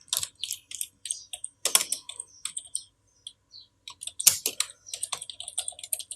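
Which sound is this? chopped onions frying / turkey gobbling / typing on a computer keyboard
typing on a computer keyboard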